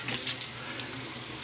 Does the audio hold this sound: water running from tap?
yes